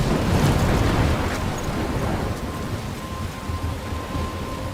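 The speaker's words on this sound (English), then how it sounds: "I'm trapped in a storm?" Thunderstorm in the video game Life is Strange: heavy steady rain roaring with a deep rolling rumble of thunder that swells early and then eases, loud and close, no voices.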